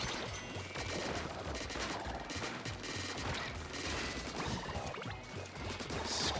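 Ink weapons firing rapidly at an enemy in Splatoon 2, a dense, loud stream of repeated shots and splats with pulsing bursts that carry on without a break to the end.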